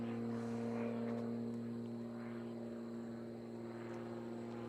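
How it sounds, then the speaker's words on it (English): Steady propeller drone of an aerobatic airplane at full power during a Power Unlimited Free Known competition flight, a constant loud hum holding throughout with slight swells, no talk over it. "Full power, let the airplane back up."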